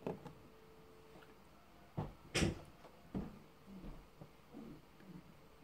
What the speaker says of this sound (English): Want to close the door?